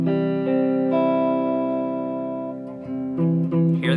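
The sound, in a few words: muffled guitar note from a fingertip on top of the fret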